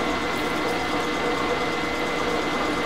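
A drill press running in back gear, a steady mechanical whir and hum with a faint rhythmic drone, loud and close. The tone stays constant, with no talking.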